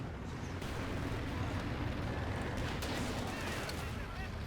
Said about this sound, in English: Churchill taking fire from that Panther